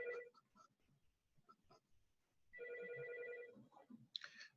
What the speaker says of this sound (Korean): 전화가 왔는데 무시하고 있으면 또 하겠죠.